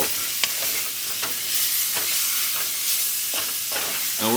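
Pork searing in a hot pan gives a loud, continuous sizzle, broken by the scrape and clatter of stirring and a few sharper crackles, close up and with no speech.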